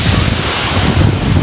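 Sea waves wash onto Agho beach at high tide, a loud dense roar of surf mixed with heavy wind buffeting the microphone, steady and continuous for the whole short stretch with no voices.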